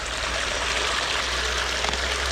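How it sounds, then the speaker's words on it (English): Running water during gold panning, a steady close rushing and trickling wash that fills the clip evenly without pauses. "Bit of water."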